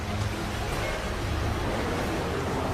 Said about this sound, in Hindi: समुद्री तूफान आ जाता है और समुद्री लहरें लगभग 40 फीट ऊंची उठकर बहुत तेज वेग में मंदिर की ओर चल पड़ती हैं